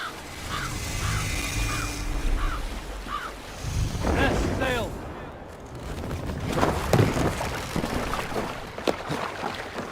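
A Viking longship under sail in the Assassin's Creed Valhalla game, with steady surf and wind rushing around the hull, a few rhythmic call-like tones early on, and voices speaking over the water noise partway through.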